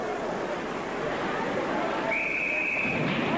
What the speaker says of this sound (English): And a whistle